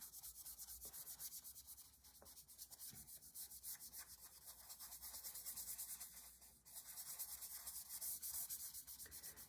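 Soft, continuous rubbing of a Q-tip or paper towel blending a drawing of swans on paper in an art class, a close, steady scrubbing texture with small rhythmic strokes and brief pauses.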